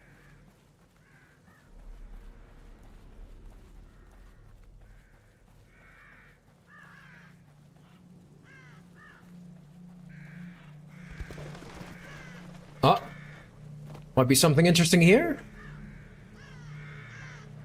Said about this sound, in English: All the crows are huddling somewhere.